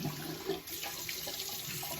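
Cold water runs steadily from a tap into a sink, a continuous rushing hiss at close range with no talk.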